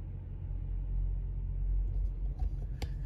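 A heavy truck pulls away nearby, with a steady low engine rumble and road noise that swells and then fades, ending in a few faint higher rattles.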